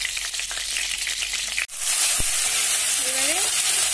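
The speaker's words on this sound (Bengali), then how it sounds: "এবারে ফোড়নে যাবে শুকনো লঙ্কা, তেজপাতা" Dry red chillies, bay leaf and nigella seeds crackle and sizzle loudly in hot oil, a dense steady hiss that jumps louder after a brief drop, close up with no voices.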